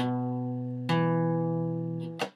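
An acoustic guitar chord strummed with the middle finger on the 2nd fret of the D string, rings out clearly, then is strummed again about a second later and once more near the end, each stroke sustaining alone.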